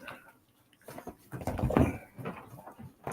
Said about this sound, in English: that dog's such a freaking talker now.